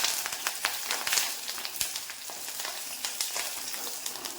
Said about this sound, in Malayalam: പിന്നെ ഈ കൂട്ടത്തിൽ തന്നെ നമുക്ക് കറിവേപ്പില ഇട്ട് കൊടുക്കാം.